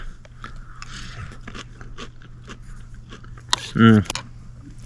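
Someone bites into crunchy food with beef and cheese, one loud close crunch after quiet background and faint handling noises.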